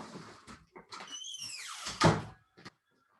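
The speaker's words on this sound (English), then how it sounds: "just let me close my door" A door squeaks as it swings, then shuts with a solid close thunk followed by a faint latch click, nearby in a quiet room.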